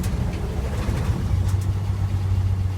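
1947 GMC truck driven around the neighborhood block, its engine running with a steady low rumble close by, with no one talking.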